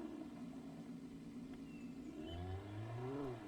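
In the game Alan Wake, a stolen vehicle's engine drones steadily, then revs up with rising whines as it accelerates, mid-level and continuous with no talk over it.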